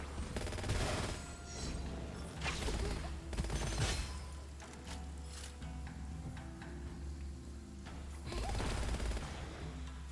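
Rapid gunfire bursts from Gunfire Reborn, a first-person shooter, crackle in dense volleys near and loud, easing off midway before another heavy burst near the end.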